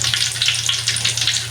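Tempeh fries in hot oil, giving off a dense, steady crackling sizzle with no break, close and fairly loud, under a low constant hum.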